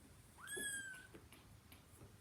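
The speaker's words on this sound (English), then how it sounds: "Sorry, my cat." A pet cat named Button gives a single rising meow, close and fairly faint in a quiet room.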